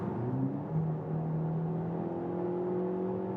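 A Peugeot 408 hybrid in sport mode accelerates hard from 80 to 110, the engine note rising steadily with a whirring drone, heard from inside the car without talk.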